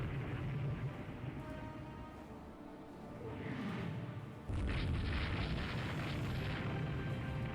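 A torpedo explosion in a naval video game comes in as deep booming rumbles, then a sudden louder blast that keeps roaring on with crackling debris.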